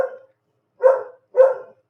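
A dog gives three short, sharp barks, close and loud, with brief silent gaps between them.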